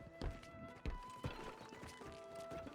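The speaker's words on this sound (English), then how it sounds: "I just whistled for my horse." Horse hooves clop in an uneven rhythm as the mount approaches after a whistle in Red Dead Redemption 2 (WildRP), moderately close with some distinct louder hoof strikes.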